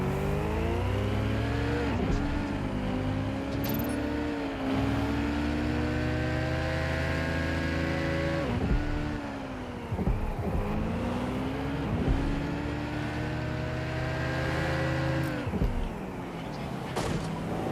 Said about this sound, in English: The driving in this game has always been like a little rough